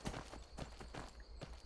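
Horse hooves clip-clopping in the video game Skyrim, a steady run of thudding hoofbeats at roughly even spacing over a constant low background hum.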